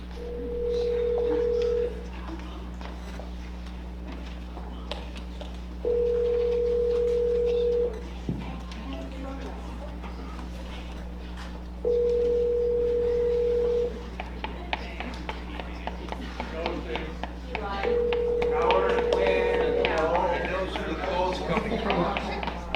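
An outgoing phone call to Gabe Evans rings four times as steady, evenly spaced tones, with people talking quietly underneath and between the rings.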